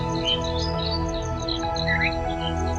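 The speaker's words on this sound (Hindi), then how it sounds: "चिड़ियों की मधुर साज आवाज मन को बहुत ही आनंद विभोर कर रहे" Several birds chirp and sing outdoors amid open greenery, bright repeated tweets and short trills scattered over a steady background hum.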